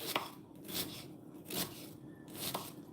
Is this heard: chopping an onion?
yes